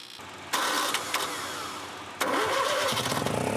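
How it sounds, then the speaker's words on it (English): An old engine set up to run on gasoline or propane cranks and catches, then settles into a steady, loud close-up running rumble that continues to the end. "Remarkably, the engine starts up and runs just fine."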